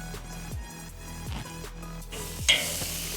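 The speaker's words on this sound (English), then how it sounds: "Now the lamb's on the griddle, we're going to leave that for about 4 to 5 minutes each side" Lamb souvlaki kebabs brushed with vegetable oil sizzle on a hot barbecue grill, a steady crackling hiss with repeated low thumps and a brief louder flare toward the end, over a tonal background hum.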